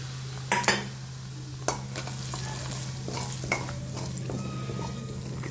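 Whole cumin and a spice mix crackle in hot oil for pyaz kachori filling, a steady sizzle punctuated by a few sharp clinks and scrapes of a spoon against the pan.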